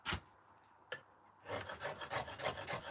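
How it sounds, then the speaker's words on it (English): A stone-carving chisel being sharpened gives a steady run of rhythmic, close rasping strokes after a couple of isolated scrapes, with no voices. "Just sharpen that chisel up again."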